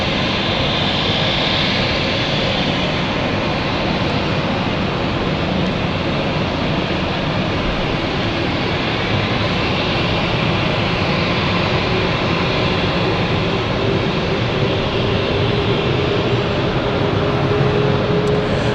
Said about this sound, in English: This is the Nice flight we've got here. They're about to taxi off